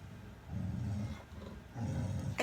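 Indoor dog growling at someone walking past outside, a low, rumbling growl in two sustained stretches with a brief pause between, close and moderately loud, ending in a short sharp sound.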